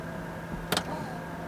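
A Hyundai Ioniq's power window gives a brief, quiet motor whir inside the car, with a short burst of noise partway through over a low steady cabin hum.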